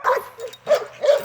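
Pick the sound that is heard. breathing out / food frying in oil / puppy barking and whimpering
puppy barking and whimpering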